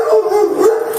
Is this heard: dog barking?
yes